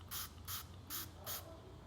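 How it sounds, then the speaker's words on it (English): Four quick hissing pumps from a small spray-top bottle, evenly spaced and close, each a short burst of mist over a quiet background with no talking. "It's a spray top, easy, easy. 5 sprays under the tongue"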